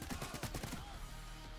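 Rapid automatic gunfire from a weapon in the video game Payday 3, a quick burst of about half a dozen shots followed by a ringing tail, fairly quiet and alone.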